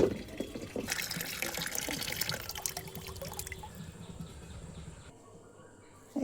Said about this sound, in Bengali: এইটাই করে 1 মগ নেবো, নিয়ে এই বালতিতে দিয়ে দেবো।